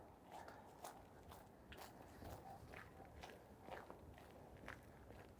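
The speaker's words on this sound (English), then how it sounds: "Sorry for all the crunching." Footsteps crunch steadily on a salt-covered sidewalk along a city street on a freezing winter day, a close, regular walking rhythm of gritty crunches with no talking.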